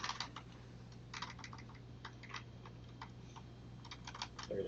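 Fingers tap on a computer keyboard in irregular bursts of soft, close clicks over a steady low electrical hum, with no speech.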